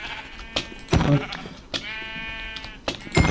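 Several sheep in modded Minecraft bleat in short, harmonic bursts at irregular intervals, fairly close and loud, with someone briefly talking in between.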